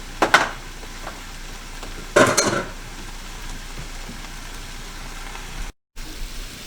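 A big pan of kale fries on medium heat as a low, even sizzle hisses throughout. Two short, louder bursts of crackling or stirring rise near the start and again about two seconds later.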